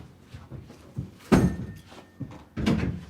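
Tool strikes force the middle hinge of an outward-opening door, a few heavy metallic thunks spaced apart, with quieter knocks and scrapes between them.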